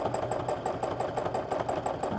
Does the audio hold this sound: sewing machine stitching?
yes